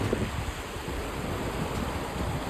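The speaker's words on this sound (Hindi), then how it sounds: "लेकिन पानी का फ्लो बहुत तेज़ हो गया है" A fast-flowing stream rushes across a water crossing in Ladakh, giving a steady, dense roar with some wind buffeting and no clear breaks.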